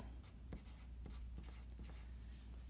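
Pen or pencil scratching on paper while working out a fraction equation, short quiet strokes in a steady rhythm over low room hum.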